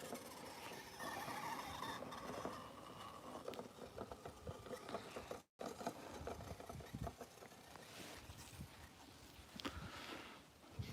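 Trail Rider 570 RC car, with gyro steering and a 2S 5300 LiPo, driven around a yard and through grass, giving a steady buzzing motor whine with rattling bursts that stay close throughout.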